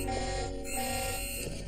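A continuous, loud electronic alarm tone rings steadily through a sealed building during a radiation lockdown, droning without pause or voices.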